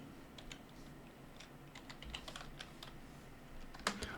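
Quick, light keystrokes tap on a computer keyboard in an irregular patter, close and fairly quiet over a low room hum, ending in a slightly louder cluster of clicks.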